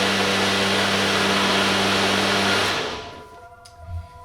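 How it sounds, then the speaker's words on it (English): A blender whirs loudly at high speed while blending ingredients for raw zucchini pasta, a steady, continuous motor drone that stops abruptly after under three seconds and leaves a faint hum. "Alright, let's blend it."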